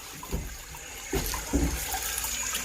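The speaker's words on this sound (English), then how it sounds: "got our float valve pissing away, filling up, and it in turn filled up our drinker cups" Water trickles and splashes steadily from a leaking float valve into a chicken waterer and its drinker cups, a continuous wet hiss with a few soft gurgles.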